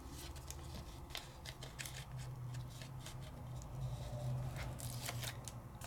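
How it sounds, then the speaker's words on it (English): Small strips of tape are pressed onto card corners in a craft session: quiet, rapid crinkles and taps in uneven bursts over a low, soft background hum. "I'm just adding a little more tape to my corners because they're not down"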